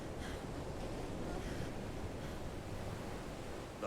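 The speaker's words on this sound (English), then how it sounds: "Waves." Ocean waves wash steadily in a Final Fantasy 16 game scene, a soft, continuous broadband surf with faint gusts of wind and no talking.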